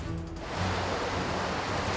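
Surf rolling onto a Rio de Janeiro beach, a continuous broad wash of breaking waves, loud and steady with no voices.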